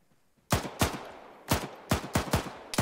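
Rifle gunfire in the Arma 3 PvP battle comes as sharp, loud single shots at uneven intervals, with six or seven cracks. Each shot is followed by a short echoing tail.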